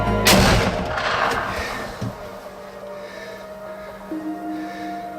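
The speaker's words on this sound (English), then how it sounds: "all he has to do is get his gun up, take his time, and squeeze the trigger" A deer hunter fires a rifle at a buck in bitter cold, one sharp loud crack right at the start that rolls away in a long fading echo, then a steady hum takes over.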